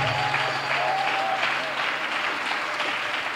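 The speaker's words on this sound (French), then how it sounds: "Je veux que tu m'aides à lui dire merci en acclamant fortement le Seigneur" Church congregation at a Sunday worship service applauding loudly, a steady dense wash of clapping hands that continues throughout, with a brief sustained tone from an instrument or microphone early on.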